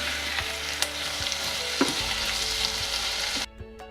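Onions and tomatoes sizzle and fry steadily in a pan, a close, continuous crackle with occasional stirring clicks, then the sizzle drops away abruptly near the end.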